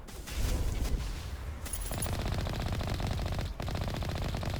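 Rapid automatic gunfire from Mass Effect Legendary Edition rattles in dense, continuous bursts with a brief pause partway through, fairly quiet in the mix.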